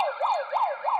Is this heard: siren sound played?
yes